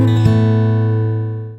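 One guitar chord from an A minor section is struck once and rings out cleanly, fading steadily over about a second and a half.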